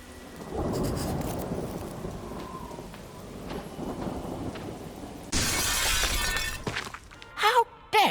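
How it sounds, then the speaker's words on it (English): Glass shatters in a sudden loud crash amid rain and rumbling thunder in the Arkham Horror video game, with brief voice sounds before and after the break. "What I need is something heavy to smash this window."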